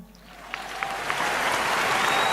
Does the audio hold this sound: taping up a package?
no